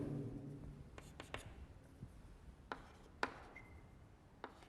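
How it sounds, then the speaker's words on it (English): Marker or chalk writing on a board during a chemistry lesson: a series of short, sharp scratchy strokes and taps spaced irregularly, close and fairly quiet, with no talk over them. "Let me write here."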